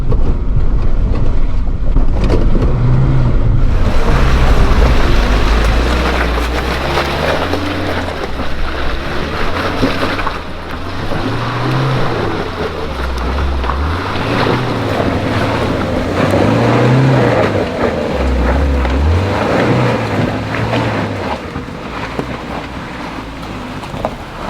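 A Suzuki Jimny's engine labours up a slippery, rutted hill full of wombat holes, loud and close with rising and falling revs and heavy wind rumble on the microphone, no voices.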